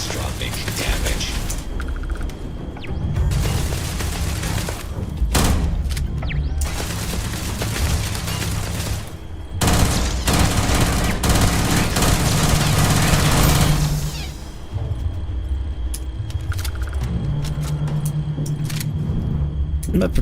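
Heavy turret gunfire in the space game Starfield, loud bursts and booms rolling almost continuously over a rumbling engine bed, with a brief lull near the end before the clatter resumes.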